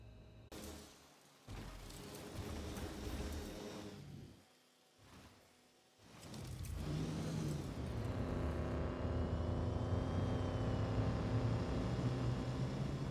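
A ground vehicle in the game Star Citizen, its engine droning in uneven surges that cut out briefly twice before settling into a loud, sustained hum with a rising tonal whine, alone for about thirteen seconds.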